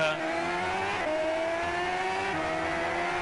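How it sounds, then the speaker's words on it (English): Engine revving from a car racing video game, a steady loud synthetic motor tone with rising and shifting pitch, continuous for a few seconds with faint voice underneath. "the camera is actually understanding how you're holding the paper and playing the car racing game"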